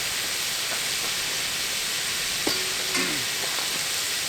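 Pieces of meat fry on a Tembo Tusk skottle grill outdoors, giving a steady, even sizzle that runs unbroken throughout, with a couple of faint clinks and scrapes partway through.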